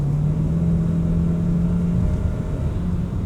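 A 2025 Kia Sportage SUV with a seven-speed transmission accelerates out of a corner, its engine holding a steady, rising drone and whir throughout, heard from inside the cabin with no speech.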